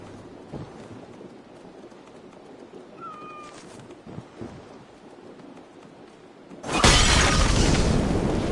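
Cats meowing in the video game Assassin's Creed Valhalla, a few short thin cries near the middle over a quiet ambient bed, followed by a sudden loud rushing crash.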